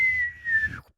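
A person whistles to imitate an incoming artillery shell, one sustained tone that slides gently downward and then cuts off, close and alone.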